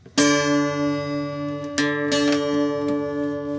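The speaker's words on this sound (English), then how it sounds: "I'll put it a little bit out of tune, and you'll hear the wave" A guitar's D strings ring together slightly out of tune, the sustained notes wavering with a slow beating pulse; a sharp pluck starts the tone and two more strums restrike it partway through, loud and close.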